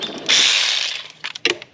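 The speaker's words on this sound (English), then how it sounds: "I'm going to tighten the 10mm down" Ratchet tightening a 10mm bolt while fitting a wedge to a 2024 Ultra 310 pump, one sustained burst of clicking followed by a few short separate ratchet strokes, close and clear.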